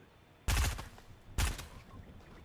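Two sharp bursts of video-game gunfire from Fortnite, each a loud cracking volley with a short decaying tail, spaced about a second apart over a low background hum.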